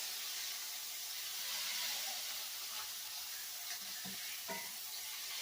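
A burger patty sizzles and hisses steadily in a hot pan as it is smashed down with a spatula, with a few faint scraping knocks near the end under the constant frying noise.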